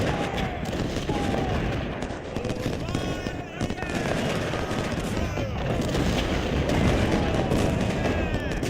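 Artillery booms and scattered musket fire in the Civil War strategy game Ultimate General Civil War, a dense continuous battle din with repeated muffled blasts, while a person talks over it.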